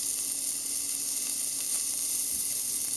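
A beef strip steak sizzles steadily in a hot pan, a continuous bright crackling hiss with scattered small pops, close and unbroken.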